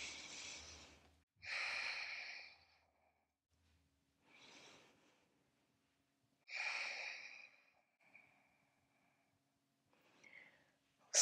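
Slow, deep breaths during a yoga flow, several long audible inhales and exhales close to the microphone, separated by quiet pauses, with no talking.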